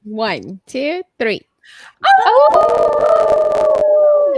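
Several people howl together like wolves in imitation, with rising, wavering voiced calls after a short count-off, the group howl sustained and loud to the end.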